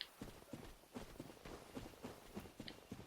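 Enemy footsteps in Dark Souls, mushroom people moving through a forest, come as soft, regular thuds about every quarter second, faint and steady against quiet ambient background.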